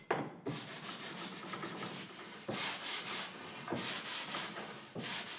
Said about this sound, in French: Après le perçage, tout est poncé